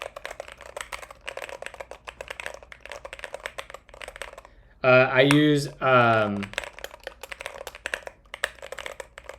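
Rapid close clacking from a split mechanical keyboard fitted with Glorious Panda switches runs throughout, and someone speaks briefly over the middle of the typing.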